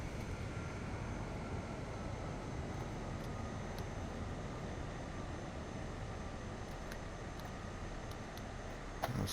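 Airliner in Microsoft Flight Simulator rolling out after a slightly bouncy touchdown with reverse thrust, a steady broadband engine roar and rumble holding evenly, fairly faint, with a faint whine tone over it.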